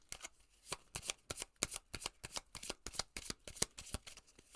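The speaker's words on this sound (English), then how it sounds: "I'm pulling from this Oracle deck." An oracle card deck is shuffled by hand, giving a crisp run of quick riffling flicks in an uneven rhythm, close and fairly quiet, with no talking over it.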